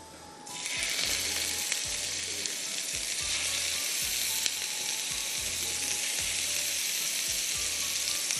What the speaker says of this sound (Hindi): Frying in very little oil. बहुत थोड़ा सा तेल लिया है